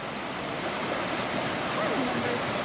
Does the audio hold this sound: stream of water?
yes